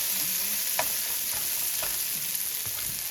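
Food sautéing in a frying pan, stirred gently to avoid scratching the pan: a continuous, even sizzle with light scrapes and soft taps from the utensil. Close and steady, with no talk.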